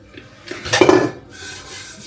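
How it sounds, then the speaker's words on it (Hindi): Dishes and utensils clink and knock together during washing up in a home kitchen, a short cluster of close, bright rattles peaking midway, then fading into softer running sounds. "तो चलो जी, मैं धो लेती हूँ बर्तन"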